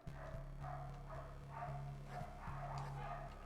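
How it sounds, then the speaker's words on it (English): Dogs bark in the 2D action game Infernax: a quick run of short, muffled woofs repeats in a regular rhythm over a steady low hum, fairly quiet throughout. "Dogs barking, so they know something's about to happen."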